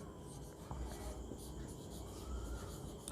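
Marker or chalk scratching across a board while question words are written, a faint continuous rubbing scrape under a soft voice speaking nearby.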